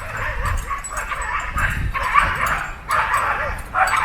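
Two dogs, a household dog and a neighbour's dog, bark back and forth outdoors in repeated yips and bow-wows, moderately close, with no talking over them.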